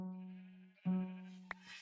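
Sheep in Minecraft let out two drawn-out wavering bleats, the second louder, followed by a brief sharp click, close and clear with no talking.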